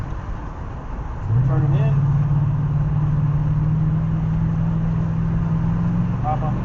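A 1996 Impala SS engine on a road course practice run settles into a loud, steady drone that holds through the rest of the clip while someone talks over it.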